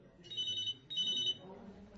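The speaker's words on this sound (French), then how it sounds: "Mathilde reçoit un appel sur son portable." Mobile phone ringing in a quiet bar in the evening, two bursts of an electronic trilling ringtone, fairly close, followed by faint background murmur.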